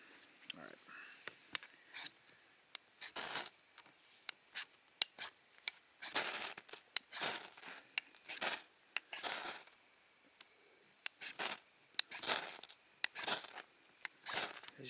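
A knife scrapes a fire steel to throw sparks, sharp rasping strikes repeated irregularly, some single and some in quick pairs, close and crisp against a quiet background.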